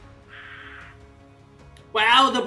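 Bird monsters in the video game Fire Emblem: Three Houses give a short, raspy caw. A louder, harsher shriek follows near the end, all over background game audio.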